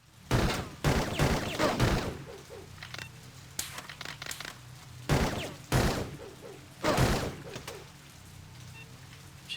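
Gunfire in the Blade Runner video game cracks out in several sharp, loud bursts, some in quick clusters, separated by quieter stretches of low background ambience.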